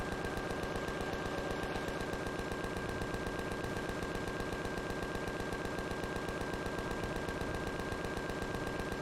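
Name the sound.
gunfire from shooting in the video game Empyrion Galactic Survival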